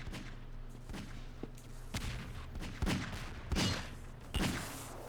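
Gunfire in the Half-Quake video game: a rapid series of sharp shots and booms, about eight distinct bursts spaced unevenly over a low steady background.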